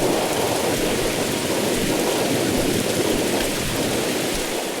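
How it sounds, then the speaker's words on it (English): Heavy rain pours down in a video game thunderstorm, a dense constant roar with low rumbling thunder underneath, loud and unbroken. "Looks like this storm is picking up."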